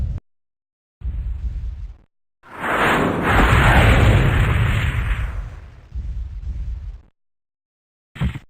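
Destroyed mech in MechWarrior 2 blowing apart: a loud, sustained rumbling explosion swells and fades over several seconds, framed by shorter low bursts before and after, with no voices.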